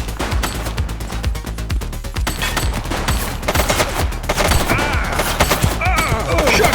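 Rapid, loud gunfire crackles in dense bursts and single shots during a police shootout in the video game The Precinct, with scattered game effects layered among the shots.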